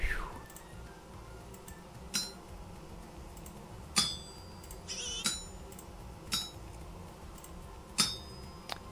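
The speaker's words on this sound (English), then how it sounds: "You basically hammer bits into the parts that are missing, and then cut away the parts that you don't need." Metal bits struck with a smithing hammer on an anvil in the video game Vintage Story, about six sharp ringing clinks spaced a second or two apart over a quiet background.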